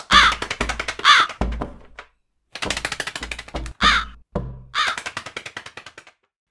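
A crow caws harshly and loudly, close by, in rapid bursts of repeated caws separated by brief silences, with a few dull knocks mixed in.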